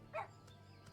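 A giant Shiba dog mount in a fantasy online game gives a single short bark, clear but fairly quiet over faint background game ambience.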